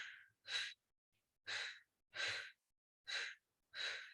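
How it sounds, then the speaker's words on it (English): Breathy exhales during a Pilates exercise, a soft close series of five or six airy puffs at regular intervals with quiet pauses between. "I'm gonna exhale."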